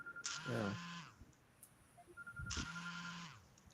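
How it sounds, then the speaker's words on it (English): A telephone rings with an incoming call, two distinct ring bursts with a pause between them, fairly clear against faint background noise. "I think he has a telephone call coming in there"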